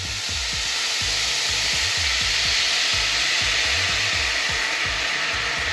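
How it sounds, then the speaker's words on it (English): Tequila hisses and sizzles loudly as it hits a hot pan holding bits of fried fish, a steady broadband sizzle lasting throughout with a faint rhythmic scraping or stirring underneath. "We're gonna pour in some tequila to kind of deglaze this pan."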